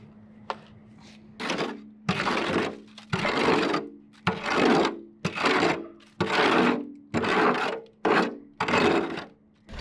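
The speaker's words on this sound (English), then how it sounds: "we have switched to the wheelbarrow mixing for the cement" Cement being mixed by hand in a wheelbarrow, a tool scraping and rasping through the heavy mix in about nine steady, evenly spaced strokes, close and loud, with no talking.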